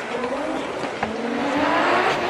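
Formula DRIFT Japan drift cars slide through a corner with a steady engine drone and faint tire noise, heard from a distance, with a sharp rise in the engine note near the midpoint.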